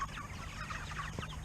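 Cornish Cross chickens clucking softly in a coop, a dense overlapping chatter of several birds close by, low in volume with no talk.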